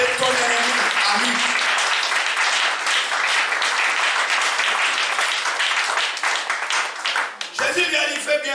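A church congregation applauds loudly and continuously in acclaim of Jesus, a dense wash of clapping with cheering voices mixed in, dipping briefly near the end before swelling again.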